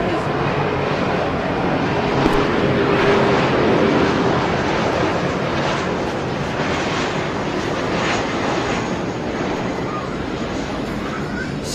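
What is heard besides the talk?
airplane flying overhead during cricket commentary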